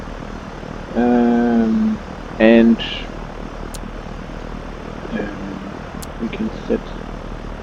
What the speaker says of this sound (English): Let's get some RPM here. Let's get the engine warmed up